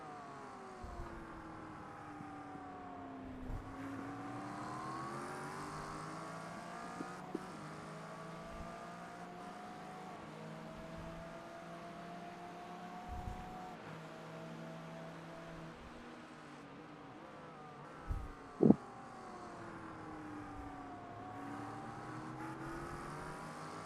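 A Honda race car in a racing video game at Daytona Road closes on a Mustang, its engine droning and shifting pitch steadily at low volume, with occasional brief knocks and no talk.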